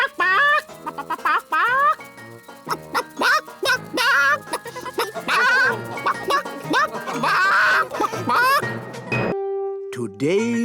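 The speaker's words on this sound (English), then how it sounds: "Nanny Plum, could you ask Mrs. Chicken to deliver an egg for breakfast tomorrow?" Cartoon chicken in Ben and Holly's Little Kingdom clucking and squawking in quick bursts, mixed with animated character voices and bright music throughout, ending on a held tone.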